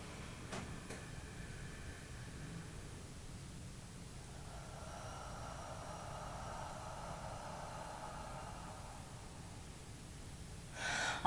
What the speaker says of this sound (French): J'inspire pleinement, j'expire par la bouche lentement